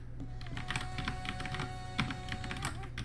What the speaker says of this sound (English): one-handed typing.